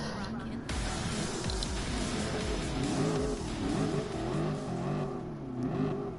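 A Lamborghini Veneno's engine revs and climbs through the gears in the racing game Gran Turismo Sport, a continuous rising and falling whine. It stays steady and fairly loud for the whole stretch, with a voice talking over it.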